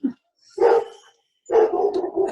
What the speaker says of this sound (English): That is Duke in the background and Carol's dog having a conversation